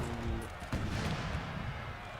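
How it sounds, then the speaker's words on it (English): Cannon artillery fire in the Napoleonic battle game Napoleon: Total War, with a dense, continuous rumble of booms and low impacts that swell sharply around the middle and keep rolling under the din of battle. "My cannons. Open fire, grenadiers."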